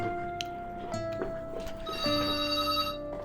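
A mobile phone rings at a meal table in Manali, with a repeating electronic ringtone melody that sounds clear and fairly close over faint background clatter.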